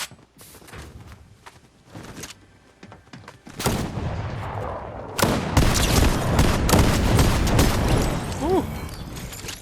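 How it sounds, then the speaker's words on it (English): Fortnite shotgun fire comes as sharp, close blasts: scattered shots at first, then a dense, loud burst of repeated gunfire with footsteps and battle noise continuing underneath. "A lot of shotgun damage."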